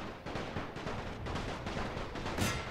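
Artillery fire in the WWI strategy game The Great War 6.0, a steady close barrage of rapid overlapping gunshot-like reports and booms that runs throughout, ending with a louder blast.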